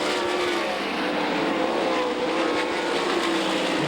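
Race cars roar around Knoxville Raceway in a steady, loud, unbroken drone of engines with no pause over several seconds.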